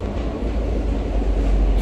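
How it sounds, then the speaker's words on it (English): Steady, loud rumble inside a moving train heading back to an RV park: a continuous low drone of wheels and carriage with no distinct clacks. A voice talks faintly underneath. "we're on our train back to the RV park"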